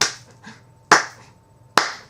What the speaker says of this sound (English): So, hesitantly, she clapped her hands.